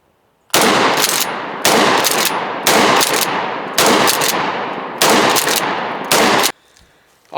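A shotgun is fired six times in succession, each blast sharp and loud with a roaring decay, spaced about a second apart, with no talk.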